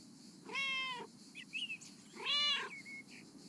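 A domestic cat meows twice, clear and close, with short chirpy squeaks between the two calls, against a quiet room background and no speech.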